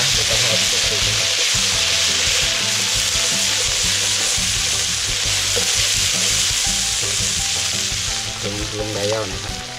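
Shan chili paste stir-fries loudly in hot oil during outdoor riverside cooking, a continuous close sizzle and crackle with scraping stirring strokes throughout, nearly alone with only faint voice traces.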